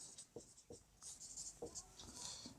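Chalk or marker writing on a board while working a geometry problem on a cone's surface area: a close, quiet series of scratchy strokes in irregular bursts, with short pauses between them.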